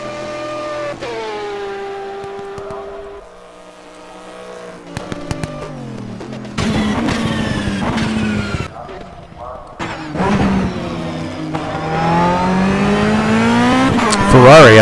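A stripped-down Ferrari race car drives at Sebring, its engine rising and falling through revving shifts and accelerating runs, loud and close, with a voice talking over parts of it.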